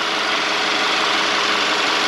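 A 2013 Volkswagen Tiguan's 2.0 TSI engine, leaking coolant from a faulty water pump, runs at a steady idle heard up close, with a dense, even mechanical whir and no talk over it.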